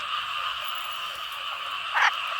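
Frogs call from flooded rice fields after heavy rain, a dense, steady chorus with one nearer croak bursting out briefly near the end.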